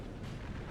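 Cannon fire in the Napoleonic battle game Napoleon Total War rumbles as a faint, low boom that rolls on as a muffled, distant-sounding blast.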